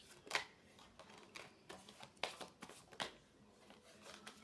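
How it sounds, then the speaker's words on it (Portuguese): A deck of cards is shuffled for a card reading, close and soft, with a string of riffling and flicking bursts in an uneven rhythm and no talking. "Vou baralhar mais um pouco."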